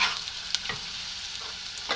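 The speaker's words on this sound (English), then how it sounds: "Over medium heat, I'm sauteing the onion, the chopped onion" Chopped onion sautéing in oil in a pan over medium heat, a steady soft sizzle with a few brief clinks and scrapes of stirring; no talking.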